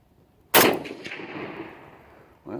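A single sharp, loud gunshot from a used Romanian SKS rifle fitted loosely in its stock, with a long ringing decay rolling off afterward, followed by a brief rustle near the end.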